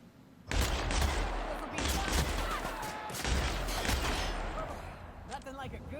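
Heavy gunfire from weapons in The Outer Worlds: rapid, loud overlapping shots rattle almost continuously after an abrupt start, with voices mixed in among the bursts.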